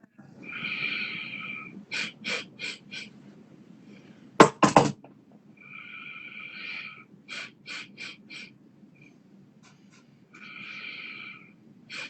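Forceful exhales from a guided breathing exercise, sharp breathy bursts in quick rhythmic clusters of three to four, separated by longer hissing breaths, close and fairly loud with quiet pauses between.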